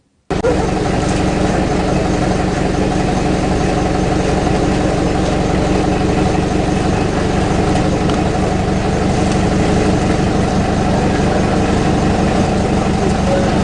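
A Rosa bus engine idles steadily and loudly up close as accused persons board, a constant low rumble that runs without a break from start to finish.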